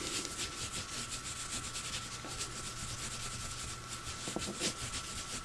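Makeup brushes are rubbed gently during cleaning, giving a soft, continuous brushy swishing with a quick back-and-forth rhythm, close and fairly quiet.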